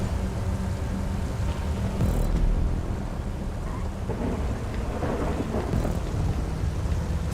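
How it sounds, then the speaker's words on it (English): A thunderstorm in the video game GTA 5, with heavy rain hissing continuously and low thunder rolling and rumbling underneath. A louder crack of thunder comes partway through, and no one speaks. "Thunder weather, of course, had to exist for the true experience."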